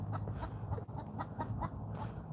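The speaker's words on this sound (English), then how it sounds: "There's a chicken." A chicken clucks several times in soft, repeated bursts, close by against a low background hum, with no talk.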